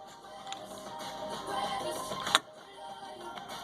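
Husqvarna Viking 6440 sewing machine stitching on the red setting with the A cam fitted, giving a steady close mechanical whir with rhythmic clatter. A sharp click lands midway, then the running continues.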